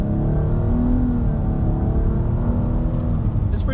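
A 2020 Nissan Maxima SV sedan with a CVT accelerating under heavy throttle, a steady loud engine drone and road roar heard from inside the cabin, holding at a rising pitch for several seconds.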